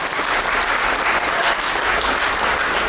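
A church congregation at a wedding ceremony breaks into loud, sustained applause, a dense continuous patter of many hands clapping up close with a faint murmur of crowd voices.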